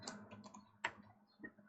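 Keys tapped on a computer keyboard while a command is entered, a few quiet, irregular clicks with one sharper keystroke, close and faint with no talk.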